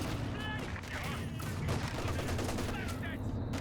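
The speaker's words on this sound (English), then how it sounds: "Plus, small arms are slowly destroying it." Small arms fire crackles in a Company of Heroes 2 battle, dense rapid gunfire bursts layered over a constant rumbling game soundscape with no pause.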